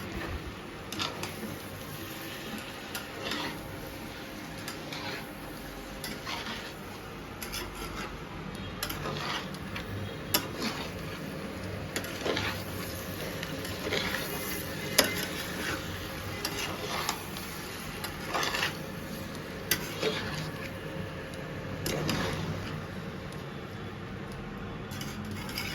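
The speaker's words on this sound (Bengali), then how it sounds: "এটাকে ভালো করে মিক্স করে নেব" A potato and cauliflower curry is stirred in oil, a continuous low sizzle with repeated scraping and rubbing strokes of a spoon against the pan, steady and close for a long stretch without speech.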